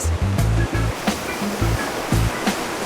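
Steady roar of ocean surf washing onto a beach, loud and continuous, with intermittent low tonal bursts and brief clicks over the rushing water.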